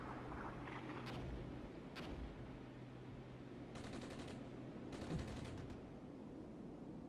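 Distant bursts of automatic gunfire from an Armored Brigade battle, faint and low, arriving in a few short rattling volleys spaced a second or more apart over a steady background hum.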